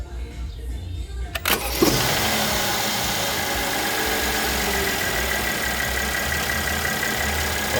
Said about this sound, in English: we're gonna start the engine right now